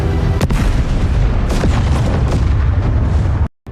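Bomb blast in an action film, a loud, deep, rumbling explosion with crackling debris bursts that fill the scene, then cut off abruptly into silence.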